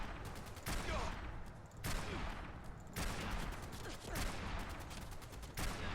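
A .50 cal machine gun in Fallout 4 fires in sustained bursts, sharp rapid reports repeating roughly every second over a continuous loud rattle of battle noise.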